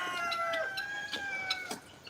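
A rooster named Clucky boy at an animal sanctuary gives a run of clucks and crow-like calls, close and clear, with some background chatter from other farm birds.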